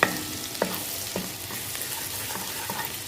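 Crushed garlic frying in melted butter gives a steady, soft sizzle with a few sharp pops and stirring clicks, heard close and alone without talk.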